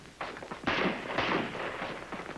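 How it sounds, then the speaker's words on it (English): Shots from an M-14 rifle on a firing range, a few loud cracks in quick succession with rough echoing reports over a noisy background, no voices. "you then fire several more rounds until your shots appear as you called them in the center of the target"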